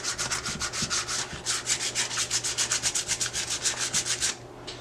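Plaster is sanded by hand with 80 grit sandpaper, giving steady rhythmic scratchy strokes, about five per second, close and fairly loud, ending abruptly.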